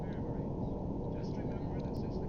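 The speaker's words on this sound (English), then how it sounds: "That's a plane." An airplane in the Silent Hunter Wolves of the Pacific submarine game drones with a continuous, heavy low engine rumble, with a muffled voice faintly underneath.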